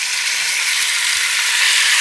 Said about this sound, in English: Essentially, what we're doing is we're just going to seal that meat.